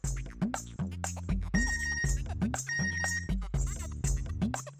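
A phone message notification tone plays as a bright, repeating electronic melody of short chiming notes in a steady pattern, loud and alone with no voices.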